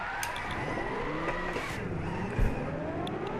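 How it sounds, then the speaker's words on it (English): Engine roar with tire squeal as a car holds a long drift in Gran Turismo 6, a continuous smeared whine of sliding tires and revving, played without talk. "It did drift, and it kept the drift going."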